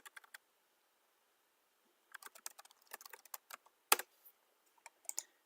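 Typing on a computer keyboard in a quiet room: a short burst of keystrokes, a pause, then a longer run of irregular clicks with one sharper tap, close and clear with no talk.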